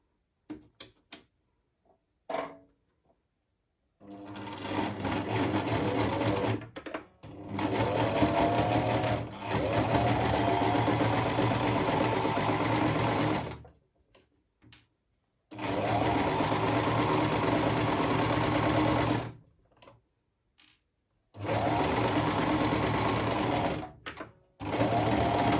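A sewing machine runs in long, fast bursts, stitching a straight seam on a bag lining, with a rapid mechanical whirr and needle chatter separated by short pauses, close and loud.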